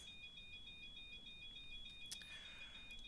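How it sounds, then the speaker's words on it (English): Cockpit alarm in a flight simulator game, sounding as two steady high electronic tones held continuously and fairly faint, with a brief click partway through and no voices. "hopefully we can get rid of that annoying alarm"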